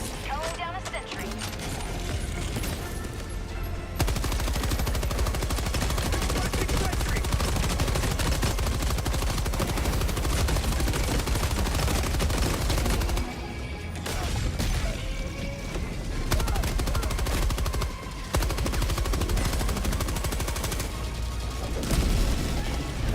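Gunfire from a deployed sentry machine gun in Helldivers 2 rattles in dense, continuous bursts with booming impacts. The firing breaks off in brief pauses and a voice talks over it.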